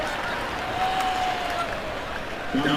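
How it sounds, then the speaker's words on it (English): Fans at an NFL preseason football game between the Vikings and Chiefs clap in a broad, steady wash of crowd applause, with a faint tone running through it and announcer chatter underneath. "They give it a little extra applause for shouldn't say hometown, but near hometown guy"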